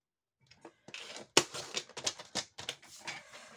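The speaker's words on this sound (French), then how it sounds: "on coupe sur le biais" Paper being snipped on the bias with scissors to shape a vintage shabby-style scrapbook tag, a quick run of short, crisp close cuts with brief gaps between them and no talking.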